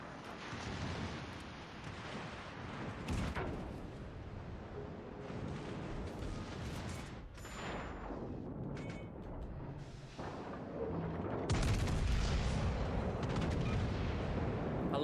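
Ship guns in a naval video game fire in repeated heavy booms over about fifteen seconds, with some blasts near and loud and others more distant, over a constant rumble of battle noise.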